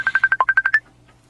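A mobile phone gives a quick run of about nine short electronic beeps in an even rhythm, loud and close, then falls silent.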